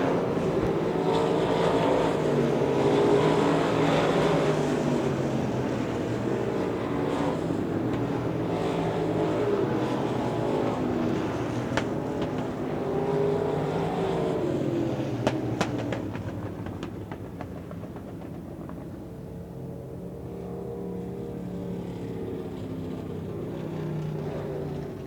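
Limited modified race cars roar around a dirt speedway at a Texas Outlaw Nationals event, a loud continuous engine drone that swells and fades as cars pass, then thins out toward the end.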